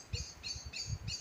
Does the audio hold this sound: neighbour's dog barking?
no